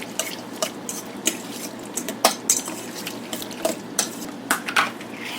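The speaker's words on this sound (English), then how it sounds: "And just give that a good mix." Metal spoon clinking and scraping against a bowl as apple cider is stirred into a mixture, a quick irregular series of light taps and wet swirls, close and fairly clear with no talking.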